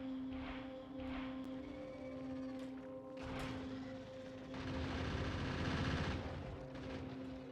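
Automated defensive turrets in Factorio rattle off bursts of rapid gunfire over a low steady machine hum, the shots clustering in short volleys and swelling into a denser barrage toward the end.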